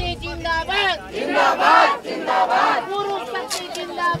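A large crowd of protesting contract workers chants and shouts in rhythmic bursts, many voices rising and falling together close by, with individual calls breaking out between swells.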